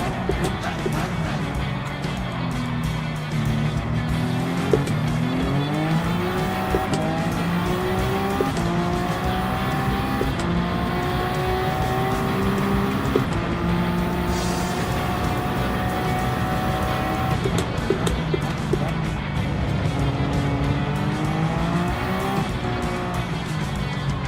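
Race car engine in a multiclass motorsports racing video game, a loud continuous drone whose pitch climbs and falls through gear shifts, with occasional tire squeal, steady and close throughout.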